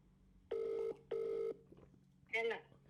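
Two long, even telephone dial tones or tones on a phone being used to call a mother, followed by a short burst of higher ringing tones, heard close up over a quiet background hum.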